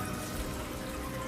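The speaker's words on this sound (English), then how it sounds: "We're going to go ahead and just dump them in." Water pours and splashes steadily as snails are tipped from their container into an aquarium tank, a close, continuous gush lasting about a second and a half with no talking.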